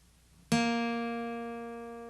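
One plucked acoustic guitar note on the 4th string at the 3rd fret, struck sharply and left to ring alone, fading slowly with clear, steady overtones.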